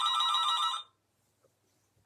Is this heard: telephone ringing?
yes